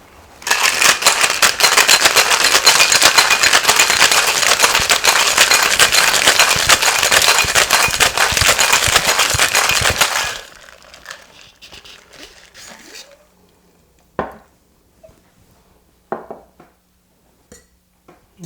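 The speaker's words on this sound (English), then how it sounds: "Now we're going to shake." Cocktail shaker full of ice shaken hard for a mojito, a loud dense rattle lasting about ten seconds, then it stops, followed by quieter scattered knocks and clinks.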